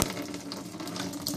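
Tap water runs steadily into an off-grid hot water setup, a continuous close hiss and splash with faint higher splashes on top, no voices.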